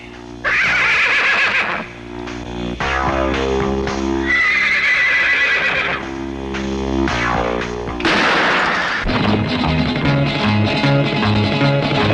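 Several racehorses whinny and neigh loudly in long, shrill cries that overlap one another. Hooves clatter and dramatic film sound blends in with the calls.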